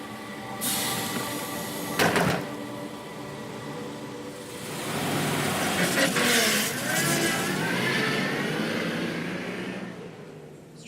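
A bus engine idling and then revving up in the game Everlasting Summer, with a door-like clunk near the start and a rising, rumbling engine swell through the middle before it fades.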